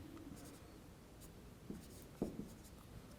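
Chalk or marker scratching on a classroom board during a signals and systems lecture, a few short strokes and taps over a low steady room hum, with no talking.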